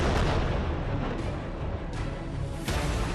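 Israeli bombardment of Hezbollah positions near the Lebanon border, heavy explosions booming and rumbling continuously, with several sharper blasts cutting through a loud sustained roar.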